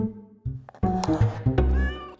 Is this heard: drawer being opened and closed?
no